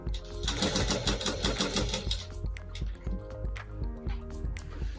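Sewing machine stitching a fishcut inskirt: rapid rhythmic chattering of the needle running steadily, then slowing into separate ticks and clicks as it stops, close and fairly loud.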